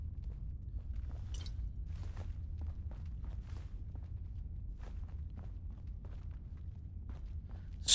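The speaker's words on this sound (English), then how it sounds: "Sloppy, wet footsteps, and we all know what that means." Wet, sloppy footsteps in the Fallout 4 video game: a string of soft, irregular squelching steps over a low hum, ending with a sudden louder burst.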